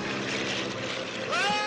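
A small propeller airplane passes overhead above people stranded on a remote island, a steady droning engine that swells louder toward the end as it comes close.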